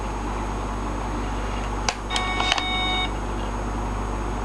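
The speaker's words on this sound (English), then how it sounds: "Oh, that was my cell phone" A cell phone gives a short burst of electronic beeps, a few bright tones clustered within about a second, standing out clearly over a steady low background hum.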